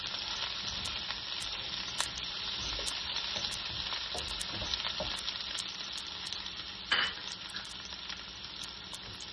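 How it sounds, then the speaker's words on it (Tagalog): Onions and garlic sautéing in hot cooking oil for a tofu and vegetable stir-fry, a continuous close, bright sizzle with scattered crackles and a brief louder hiss partway through, no talking. "So, I just add onions and garlic."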